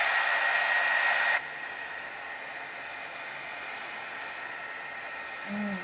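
A hair dryer blows loudly over a watercolor painting for about a second and a half before it cuts off, leaving a low steady hum and a faint voice near the end.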